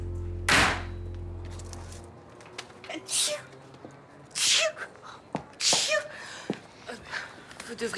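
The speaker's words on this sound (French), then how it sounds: "vous éternuez beaucoup quand même" A person sneezes sharply once near the start, with several more short sneezes or snorting breaths scattered through the clip over a quiet indoor background.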